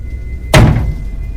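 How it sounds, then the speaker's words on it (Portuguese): One loud, close thud of someone banging hard on a storeroom door at a fuel station, a sharp impact with a short booming decay against a steady low background hum. "ouvi um forte golpe, como se alguém tivesse batido com força na porta do depósito"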